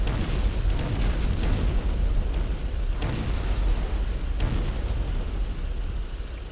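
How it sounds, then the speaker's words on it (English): Rapid, continuous gunfire from a Vulcan anti-aircraft gun in the video game Arma: Cold War Assault, a dense, loud roar with distant booming bursts layered throughout, sustained without pause. "Vulcan still firing."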